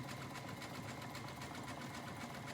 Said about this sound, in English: pull as far as I can and then sew that elastic in place